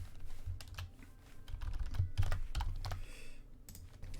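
Rapid, uneven tapping on a computer keyboard while writing code, with bursts of keystrokes and short pauses, close and fairly quiet, with no talking.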